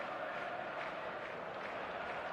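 Stadium crowd in an eFootball match, a dense continuous roar of cheering and chanting that holds at an even level throughout.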